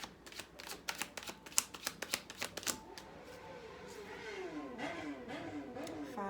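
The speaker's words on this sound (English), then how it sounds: "We got traffic here sometimes, especially those bikes they're not to be riding." Street traffic passes faintly, with a vehicle whirring by as it approaches and recedes, after a run of quick dry clicking.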